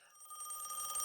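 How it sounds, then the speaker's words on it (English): A telephone bell rings in a short, bright trilling burst that starts faint and quickly grows louder, heard alone without speech. "That's the phone ringing."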